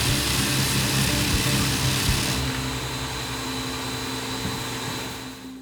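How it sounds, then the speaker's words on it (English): Small powered sander working slowly over a wooden foundry pattern in a pattern shop, a steady whining motor hum with rough grinding texture that eases slightly partway through, close and alone. "So just to sand on here a little bit, this is a small job for this device, but just go slow and sands very nice."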